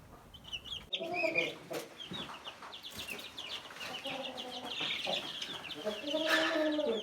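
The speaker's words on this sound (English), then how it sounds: "I hope you guys are not bothered by the cheeping of the chicks." Two-week-old chicks cheep and peep in a busy, continuous chorus close by, with varied chirps overlapping throughout and no voices.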